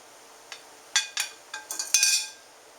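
Metal ladle and spoon clink against a pan while lifting whole Riesling-poached pears with stems on, a series of about six light, close metallic taps and scrapes growing busier toward the end, no talking.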